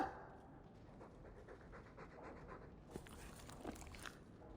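Dog panting in Dragon Age 2, a steady quiet rhythmic breathing that runs low and continuous, with a few soft clicks and movement sounds near the end.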